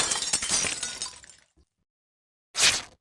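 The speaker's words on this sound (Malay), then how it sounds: "Semua cawan pecah." Glass cups shatter in a loud, dense crash lasting about a second and a half, followed by a short silence and then a second sharp burst of breaking glass.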